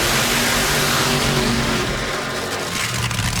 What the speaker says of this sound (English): John Force starts his car.